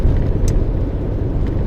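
A car driving along a highway toward Seville, a steady low road and engine rumble heard from inside, loud and continuous, with no one speaking.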